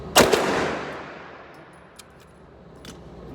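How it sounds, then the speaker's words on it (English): A single sharp AR9 rifle shot with a quick follow-up from a PSA 3.5 drop-in trigger during an attempt at bump firing, loud and close, then a long ringing decay and a few faint metallic clinks. "Me being silly trying to bump fire this thing."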